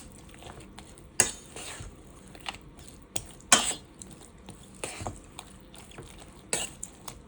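Biscuits and sausage gravy are stirred in a pot for a breakfast casserole, with scattered clinks and scrapes of a utensil against the pot, a few sharper knocks standing out over a soft, continuous background.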